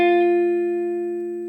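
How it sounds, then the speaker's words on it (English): A single sustained electric guitar note picked on the G string at the 10th position, ringing clearly and alone, slowly decaying over about a second and a half. "And then I play with my index finger 10th position of the G string"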